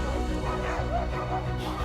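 Several sled dogs in Alaska bark and yip close by, with dense, overlapping woofs running steadily through the short stretch and a few whimpering notes mixed in.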